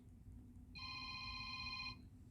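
A telephone rings once in a quiet room: a clear, fairly soft trill that lasts about a second over low background hum.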